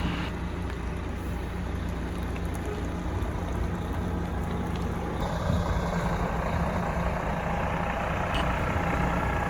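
A Prevost bus motorhome backs into a campsite with a constant heavy engine rumble and broadband hiss, steady and close, with a brief louder burst near the middle.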